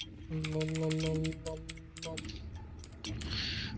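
A computer keyboard is typed on to write in chat during a Hunt: Showdown match, a run of quick close clicks over sustained in-game tones, then a few scattered keystrokes.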